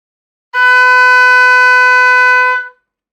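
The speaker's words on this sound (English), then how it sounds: "So let's play B." An oboe sounds a single note B, fingered with only the first finger down, as one steady, bright, reedy tone held for about two seconds, loud and close, then released.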